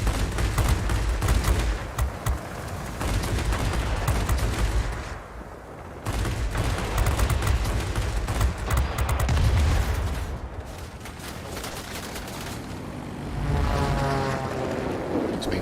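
Machine guns rattle nonstop during an aerial dogfight in the World of Warplanes video game, dense and loud over a droning aircraft engine, with a short dip in the firing near the middle and a buzzing propeller tone toward the end.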